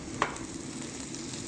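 Tomatoes drop into a hot pan with chili and onion, giving a brief sharp sizzle burst, then a soft, steady frying crackle that continues at a low level.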